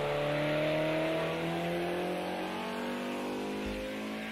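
A race car engine in a racing video game drones with a rough, strained tone, holding a steady harmonic hum that sags slightly in pitch, close and continuous with no talking.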